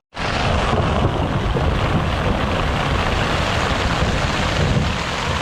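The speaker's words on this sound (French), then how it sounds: "On fait un concours du plus gros tonnerre" A storm in the Alps brings one huge thunderclap that hits suddenly and then rolls on as a loud, sustained rumble for several seconds, with no talking.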